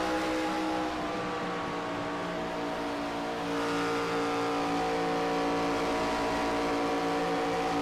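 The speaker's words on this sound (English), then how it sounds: "What a job they're doing hanging on to these race cars right now." Race cars roaring around a track at the Las Vegas round of a pro racing series, a dense, loud engine drone with layered revving that swells slightly midway and holds steady.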